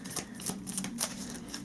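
A deck of Legendary Encounters: Alien cards is shuffled in a quick run of soft, rhythmic riffling flutters, close and fairly quiet, with no voices.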